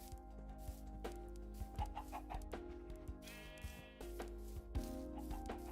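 Minecraft chickens cluck softly, with a handful of short clucks scattered over a quiet, steady tonal game background.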